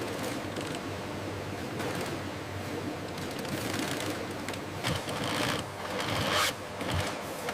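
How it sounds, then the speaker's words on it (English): Industrial sewing machine stitching a snake-leather jacket in a factory, a steady fast mechanical chatter of needle strokes running throughout, with a few sharper clacks and bursts near the end, no voices. "Machines provide consistent, precise stitching."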